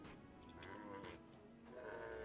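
A goat in the video game Hytale gives a drawn-out, wavering bleat against steady background game sound, lasting through the short stretch with no talking.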